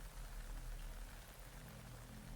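Steady rain in the Metal Gear Solid 3: Snake Eater video game, a continuous hiss of falling drops at moderate level with a low rumbling undertone, no voices.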